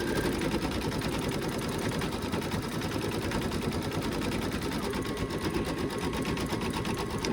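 An embroidery machine stitching a tack-down stitch on an in-the-hoop monkey bib, a steady, rapid mechanical chatter of needle strokes that runs loud and continuous without pause.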